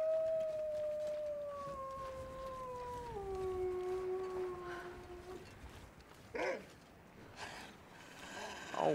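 A wolf in the snowy survival game The Long Dark gives long, wavering howls that slide downward, one voice layered over another, followed by a few short yelps and cries at a moderate distance.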